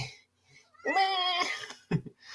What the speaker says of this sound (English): The cat does not want to be held right now. She's irritated.